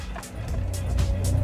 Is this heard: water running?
no